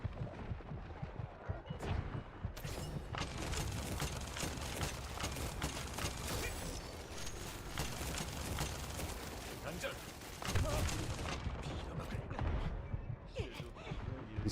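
Rapid gunfire and explosive bursts from a shooter video game rattle almost continuously, dense and loud, with a player talking over the action throughout.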